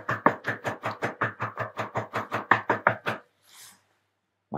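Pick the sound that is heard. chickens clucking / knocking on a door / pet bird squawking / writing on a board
knocking on a door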